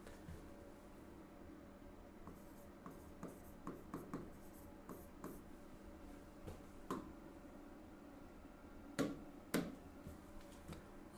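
Pen scratching across paper during a Hindi maths lesson, a run of soft strokes and taps of varying strength, close by and alone, with no talking.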